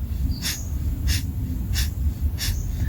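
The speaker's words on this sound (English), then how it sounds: "And you can always have a slower breath of fire if you want." Rapid breath of fire breathing exercise from a Kundalini yoga set: four sharp, evenly spaced nasal exhales about every two-thirds of a second, close and clear over a low background hum.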